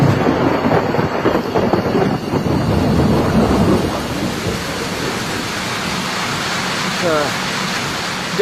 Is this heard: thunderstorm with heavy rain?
yes